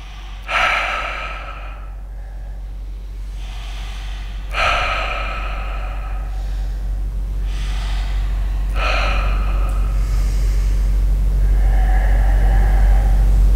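Slow, deep breaths during a guided meditation, three long audible inhales and exhales spaced a few seconds apart, close and clear over a low steady hum.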